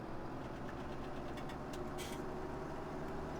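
A tractor engine in Farming Simulator 17 idles steadily at a low, constant rumble, with a faint knocking texture and a few light clicks partway through. No one speaks.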